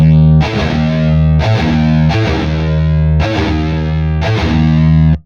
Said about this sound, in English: the palm mute on the second fret D sharp needs a slight vibrato